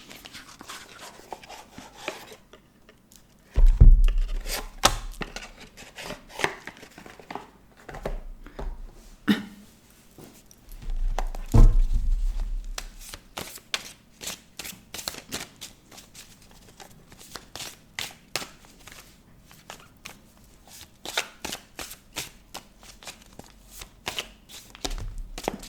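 Oracle cards are shuffled by hand in a sequence of crisp riffles and soft slides, with two heavier thumps where the deck is knocked or set down; nobody speaks.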